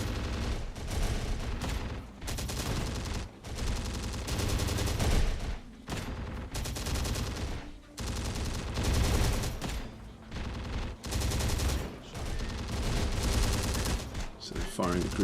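Dense, sustained gunfire from multiple weapons in the tactical combat game Terminator: Dark Fate Defiance, loud bursts and fusillades rolling almost continuously with brief gaps.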